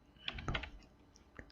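Keys are tapped on a computer keyboard, a handful of quick, light clicks clustered together and then a final lone press, close and fairly quiet.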